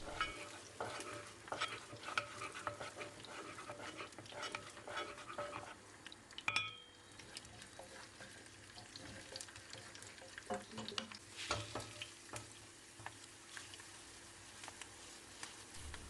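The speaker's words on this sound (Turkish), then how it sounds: "Tamamen tereyağlarının erimesi gerekiyor, iyice kızması gerekiyor." Sunflower oil and melting butter fry in a pot with a faint, continuous sizzle. Occasional light stirring scrapes and clinks sit over it, and no one speaks.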